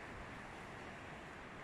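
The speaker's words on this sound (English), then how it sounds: "Now, this is some serious swell and waves here. The wind is pumping." Strong wind roars over a heavy sea swell with breaking waves at a backcountry kayak camp, a dense, steady rush with no pauses and no voices.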